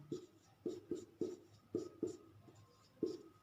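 Pen or chalk writing out numbers during a maths lesson makes a series of crisp taps and short strokes, about eight in an irregular rhythm, close and fairly quiet, with no speech over it.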